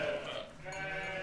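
Ewes on a farm letting out a short bleat, fairly close and clear, followed by a softer second bleat, with no talk over it.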